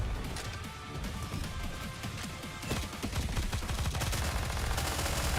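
Rapid gunfire from the shooter game Nikke, dense overlapping bursts of shots and impacts running continuously at steady loudness across the whole stretch.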